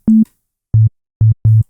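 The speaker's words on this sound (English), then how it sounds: "we'll create kind of our own tom drum almost" Synthesized sine wave tom drum hits with no sustain and quick decay: four short, smooth low tones, the first slightly higher, then three lower ones in an uneven rhythm with silence between.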